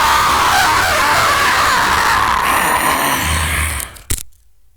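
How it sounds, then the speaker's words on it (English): A man's loud, sustained scream shouted straight into a podcast microphone, harsh and distorted for about four seconds before it cuts off abruptly into silence. "I'm gonna give one last scream for the mic"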